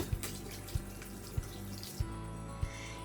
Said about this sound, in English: wash my hands